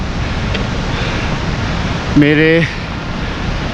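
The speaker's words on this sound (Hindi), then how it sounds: "लेफ़्ट हैंड साइड में एक नदी भी बह रही है और ये मोस्टली नीलकंठ के ग्लेशियर से आ रही है।" A river fed by the Neelkanth glacier rushes as a steady broadband roar along a Himalayan trek route between Badrinath and the Neelkanth base, with a voice briefly speaking over it.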